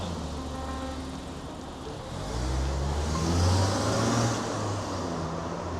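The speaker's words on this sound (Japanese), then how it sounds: "あれが車です。" A car drives past on a street near the Tama River, its engine swelling from a low hum to a nearer rumble midway, then easing off, heard from a walker's vantage without speech.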